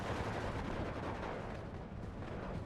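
Rapid, dense autocannon and gunfire rattle from 20mm guns in the video game Steel Division 2, continuous and fairly distant-sounding, mixed with battle noise and no speech.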